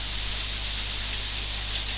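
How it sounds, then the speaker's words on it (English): Rain falls as a steady, dense hiss of broadband patter with a low constant hum beneath, with no pauses and no voices. "And again, it's raining."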